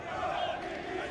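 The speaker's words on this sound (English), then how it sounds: "And the crowd certainly making their voices heard." Football fans in a stadium at a Guinea-Bissau versus Guinea World Cup qualifier, a sustained roar of massed voices and chanting, steady and fairly distant-sounding throughout.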